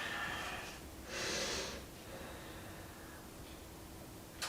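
A single deep exhale during a stretching session rushes out briefly, soft and close against a quiet background hiss.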